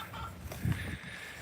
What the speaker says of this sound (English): Hope that chicken's not dying.